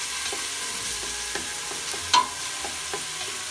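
Garlic sizzling steadily in a pan for tomato sauce, a continuous close frying hiss with a few scraping stirs and one brief sharp tick.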